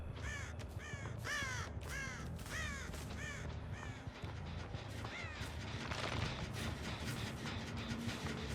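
Crows caw again and again, each call harsh and rising, in a rhythmic run inside the horror game Dead by Daylight, set against a constant droning ambient bed that stays steady throughout.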